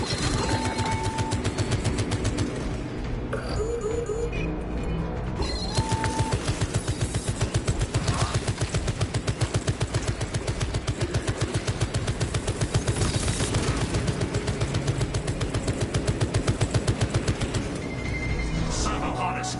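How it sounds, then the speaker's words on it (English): A tarantula sentry gun in the video game Warhammer 40,000: Space Marine 2 firing rapid, steady bursts that rattle on continuously, with a game voice speaking over the gunfire. "Activating tarantula sentry gun. Servo gun strike in progress."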